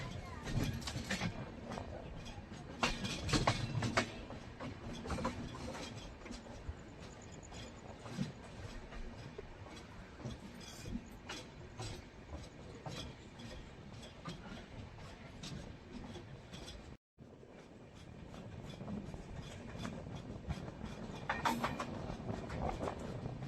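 Godavari Express sleeper-class coach in motion, a steady near rumble and rattle of the running train with rhythmic track clatter throughout, a brief dropout near the end, and occasional voices mixed into the din.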